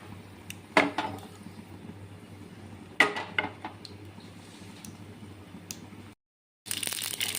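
Mustard seeds spluttering in hot oil for a tempering, heard as scattered sharp pops and crackles over a steady low hum, with a couple of louder bursts and a brief drop to silence near the end.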